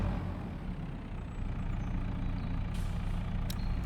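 A Massey Ferguson tractor drives in Farming Simulator 22, giving a steady, low diesel engine drone at moderate distance with brief hissing bursts near the end.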